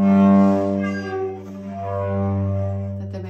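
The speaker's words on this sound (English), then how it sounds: "there might be a skidding kind of a sound" The open G string of a cello is bowed with an uneven, skidding tone: a sustained low drone that wavers and roughens midway before steadying, close and alone.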